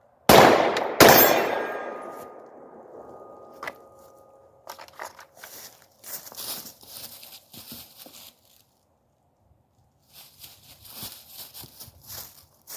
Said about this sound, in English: basically I determined that I needed to use the gun to defend myself, fired my shots